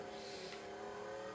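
Dominator muscle car, a Mustang, in GTA 5 rally racing, with its engine holding a steady, fairly loud high drone and a slight rise midway. The engine runs alone with no voices over it.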